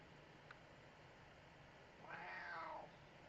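A seventeen-year-old pet cat gives one faint, short meow, a soft rising and falling cry heard against quiet background hiss.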